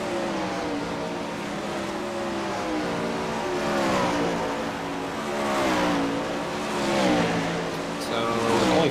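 Race car on a dirt oval track, engine droning and rising in pitch as it circles, with a voice talking over the continuous motor sound throughout.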